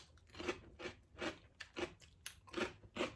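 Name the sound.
biting crunchy pork rind dipped in soup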